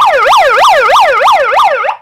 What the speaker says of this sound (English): and then like it's got an alarm siren.